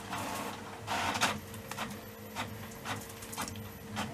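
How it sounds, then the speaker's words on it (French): An office printer runs unattended at work, a steady mechanical whir with repeated rhythmic feed strokes and clicks roughly every half second, close and moderately loud with no voices over it. "l'imprimante marche toute seule"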